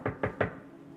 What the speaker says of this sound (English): he hears a knock on the door